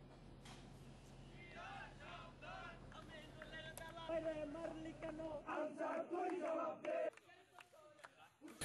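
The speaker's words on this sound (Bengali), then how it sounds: "বিক্ষোভ মিছিল থেকে শিক্ষার্থীরা আনসার বাহিনীর শাস্তি দাবি জানিয়ে বিভিন্ন স্লোগান দিতে থাকেন" Protesting students chant slogans in a street march, crowd voices rising and falling in rhythmic shouted phrases, fairly close and loud, with an abrupt cut in the background noise partway through.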